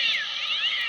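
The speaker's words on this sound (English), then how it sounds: "Let's see if the cats start fighting again when I have this drink." A cat lets out a short, fairly loud yowl, a single drawn-out caterwaul with a wavering pitch, alone with no talking.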